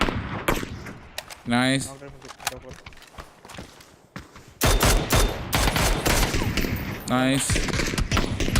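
Bursts of rapid gunfire and scattered single shots in the battle royale game PUBG, with footsteps between volleys, mixed under excited voices talking.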